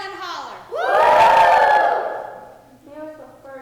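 A crowd of fifth-grade children at a school colonial-era program yells and hollers together in one loud, sustained burst lasting about two seconds, then fades into scattered voices.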